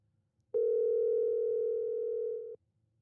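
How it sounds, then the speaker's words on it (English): A steady electronic telephone tone on an outgoing call to a remote friend, one continuous two-second sustained note that starts and stops abruptly, fairly loud with no voices over it. "Phone a friend. Oh, ringing."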